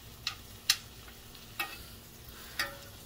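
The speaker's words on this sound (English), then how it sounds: "Okay, so I put the mushrooms in. And I'm trying to toss them around in the juice" Mushrooms tossed in hot steak juices in a pan before going into the oven, a soft steady sizzle broken by four sharp utensil scrapes and clinks at uneven intervals.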